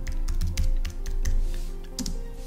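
A computer keyboard clatters as a search query is typed, with quick, steady keystrokes close up and no talking.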